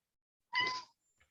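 A domestic cat gives a single short, clear meow, close and fairly loud, surrounded by silence, with a faint small noise afterward.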